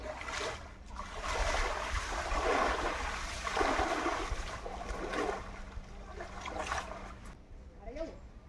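People wading into a fishing pond to catch fish, water sloshing and splashing in uneven bursts close by while voices talk over it.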